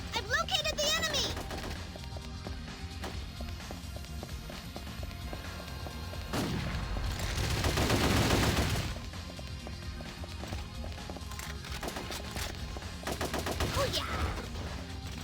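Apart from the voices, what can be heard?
gunfire in Ghost in the Shell: Stand Alone Complex PSP game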